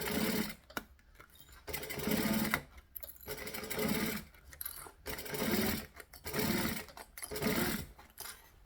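A sewing machine stitching binding on a Phoebe project, running in repeated short bursts with brief stops between them, close and steady.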